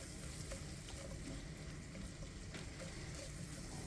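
Meats and eggs cooking slowly on low heat in melted butter in a pan, giving a steady, soft, continuous sizzle and crackle close by with no talking.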